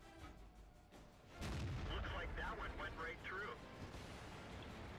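A World of Tanks tank cannon fires with a heavy boom, followed by a rumbling battle roar. Over it someone talks throughout.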